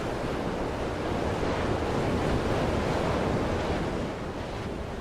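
Stormy sea off the Aleutian Islands, with heavy surf and strong wind roaring together in a dense, continuous wash that stays loud throughout and eases slightly near the end.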